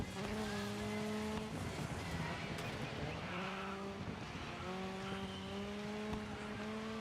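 A car in Dirt 5 makes a handbrake turn during a race, with engine whine and drawn-out tire squeals sliding through the corner, loud and sustained.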